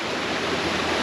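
Steady broadband rushing of a river flowing in Puerto Vallarta after Hurricane Nora, close and continuous with no voices.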